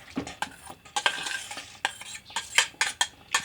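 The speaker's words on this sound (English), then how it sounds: "this is our macaroni elbows that we are putting in" Dry macaroni elbows tip into a pot and get stirred, a run of quick close clatters and scrapes with irregular rattling bursts, fairly quiet and with no talking.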